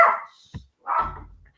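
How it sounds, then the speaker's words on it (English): A single dog barks loudly and close by, two sharp barks separated by a short pause, with a brief thud between them. "Ted just heard another dog barking now, so has decided to let it bark."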